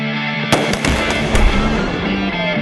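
Explosive blasts in a Dutch Miller Kia car dealership commercial featuring a 2014 Kia Forte, heard as a sharp loud onset followed by several crackling bursts over a dense rumbling wash that lingers.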